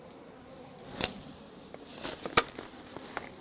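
Bees hum around a beehive while an Asian hornet hunts nearby, a faint steady buzz broken by a few sharp clicks and knocks close by.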